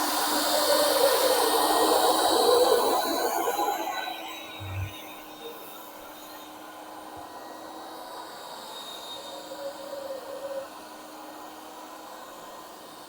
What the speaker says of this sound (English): to actually pick up the water, I'm going to turn the motor on and drop the squeegee